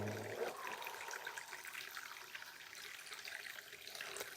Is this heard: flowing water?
yes